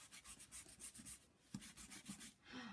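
An eraser rubbing out pencil on an art journal page, quick rhythmic back-and-forth strokes, close and soft, about a dozen scrubbing passes in a steady rhythm.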